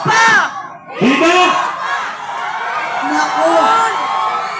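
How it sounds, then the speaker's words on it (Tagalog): An audience at a live show shouts and cheers in loud rising whoops and yells, a strong burst at the start and another after a short dip, then sustained crowd noise. "May sumisigaw dito!"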